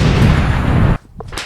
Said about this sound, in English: Put an exploding effect on my Among Us character.